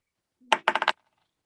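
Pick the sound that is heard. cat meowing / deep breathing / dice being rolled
dice being rolled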